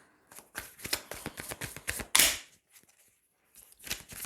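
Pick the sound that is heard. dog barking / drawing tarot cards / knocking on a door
drawing tarot cards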